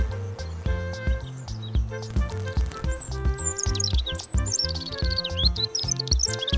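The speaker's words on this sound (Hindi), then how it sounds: "बच्चों, ये देखो हमिंगबर्ड।" High, thin chirps and quick twittering tweets from a hummingbird, repeated in a rapid irregular sequence over a steady musical background.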